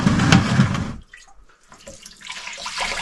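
Tap water runs into a sink while washing up in an RV being readied for departure from Valdez, Alaska, a loud steady gush at first, then near silence before a softer flow resumes.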